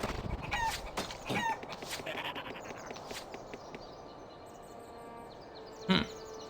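An overpowered chicken gun in Dungeon Siege, a video game, sends out a loud flurry of clucks and squawks that thin into a softer background. A single sharp burst stands out near the end, and nobody talks.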